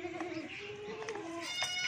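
A goat bleats in a wavering, drawn-out cry in a sales pen of goats, fairly close but soft, with a second shorter bleat following and faint voices in the background.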